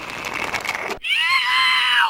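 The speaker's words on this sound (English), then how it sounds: "What was that scream?" A shrill, sustained scream cuts in abruptly after a busy stretch of game audio, high and piercing, holding steady for about a second before tailing off, from the quiz game You Don't Know Jack on PS1.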